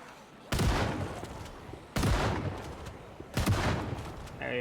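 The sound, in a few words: shotgun fired to waste ammo in a video game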